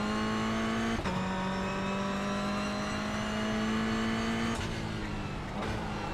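A race car with wheel damage at Long Beach in a sim racing game drones at high revs, the engine note holding steady with sharp pitch drops at gear changes, loud and alone.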